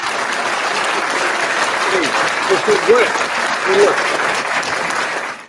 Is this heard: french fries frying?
no